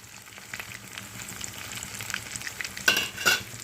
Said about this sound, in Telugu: ఇటు క్యాబేజీ వేగాలి, ప్లస్ ఆ బ్యాటర్ ఏదైతే మనం వేసామో అది కూడా వేగాలన్నమాట